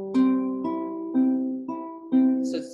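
Guitar with single notes picked on the second string at the first fret, repeated about five times at an even pace. Each pluck rings close and clear, with a brief scrape at the end.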